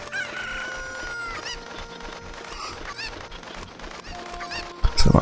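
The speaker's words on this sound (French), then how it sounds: "Il est ainsi, petit poulet." Cuccos (chickens) cluck and squawk in Zelda: Ocarina of Time, a busy cluster of short bird calls over a steady game background, ending in a louder burst.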